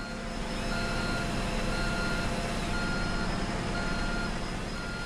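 A Lego Technic D11T bulldozer model (42131) shifted into reverse gives off a steady series of backing beeps, roughly one per second, over a loud constant engine-like drone.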